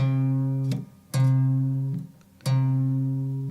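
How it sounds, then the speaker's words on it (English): Sustained low electric guitar notes on the low E string's 8th fret, plucked three times, each ringing and slowly decaying, with subtle quarter tone bends; no voices. "the first little quarter tone bend is going to be right there on the 8th fret of the low E"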